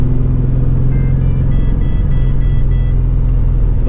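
A Holden Monaro CV6 at full throttle in fourth gear gives a steady, loud, deep engine drone with a rising whine running through it, constant and close throughout with no talk.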